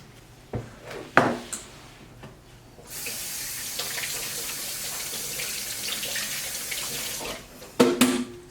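Tap water runs steadily into a sink while hands are washed beneath it, preceded and followed by brief clatters and handling sounds in a home kitchen during ground beef meal prep; close and moderately loud.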